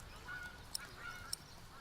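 In a medieval Pillars of the Earth game, birds honk faintly at a distance, with two sharp clicks standing out over quiet outdoor ambience.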